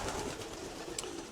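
Pigeons in a breeding loft, among them an old red-and-black-breeding cock bird, coo softly and steadily close by, with low murmuring calls blending into a continuous background hum.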